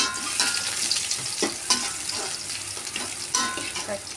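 Garlic and shallots sizzle steadily in hot oil in a home kitchen, a continuous bright frying hiss with a few louder spits and stirring scrapes, no talking.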